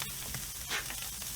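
Flank steaks of wagyu, grain-fed, grass-fed and bison beef sizzle on a crowded grill, a steady close hiss and crackle with small pops throughout, no one speaking.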